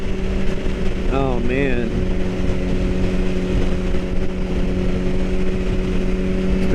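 A BMW HP4 motorcycle engine runs steadily while riding, a loud continuous drone with wind rush throughout, and someone briefly speaks over it near the start.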